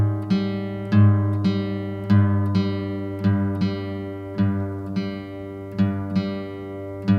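Two guitar strings ring together as the fifth string is retuned down from A to G for an open tuning, with a series of plucked pairs, each attack followed by a sustained, slowly decaying harmonic tone, with no talking.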